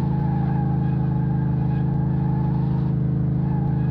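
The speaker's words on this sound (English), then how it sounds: "Drifting in an SUV." An SUV drifting in the Car Mechanic Simulator 2018 video game, with a steady, loud engine drone and a rough rumble holding constant throughout with no break.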